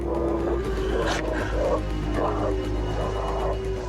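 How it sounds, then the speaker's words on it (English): A pack of wolves calls in dark woods, with drawn-out howls and yelps rising over a steady low rumble of background noise. "I could hear a bunch of wolves."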